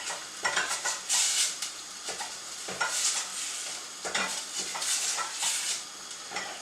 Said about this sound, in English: So in with the garlic, ginger and chilli, and I'm going to start to cook that down.